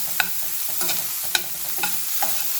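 Chopped onion sautés in a pan for a banana stem and mung dal kootu, giving a soft steady sizzle broken by several sharp spoon scrapes and stirs at uneven intervals.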